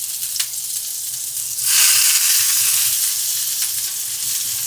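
Zucchini laid salt-and-pepper side down in a hot pan over a flame sizzles loudly, a steady searing hiss that surges after a quiet start and holds, with no talk.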